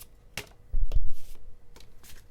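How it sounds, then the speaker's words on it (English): Tarot cards being shuffled by hand in a series of quick riffles and snaps, some sharp and close, separated by brief pauses, with no talking. "let's get another shuffle in"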